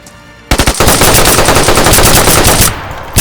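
Rapid automatic gunfire in the video game DayZ rattles out in a loud, sustained burst of close, punchy shots that cut off abruptly near the end.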